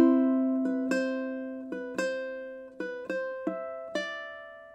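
A ukulele plucked fingerstyle, repeatedly picking single notes from the 5th fret of the A string, each note ringing clearly and decaying before the next, about seven distinct plucks, close and clean with no talking.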